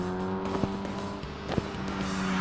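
A Caterham race car accelerates hard around a bend, its engine revving loudly and climbing in pitch with quick gear changes, close and continuous with no talking.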